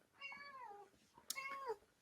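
A cat gives two drawn-out meows in quick succession, fairly close and clear, the second with a sharp onset, against a quiet room with no talking.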